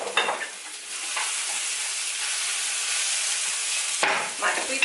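Food caramelizing in a hot pan, a loud continuous hiss and sizzle close up, briefly interrupted by a stir near the start and again toward the end.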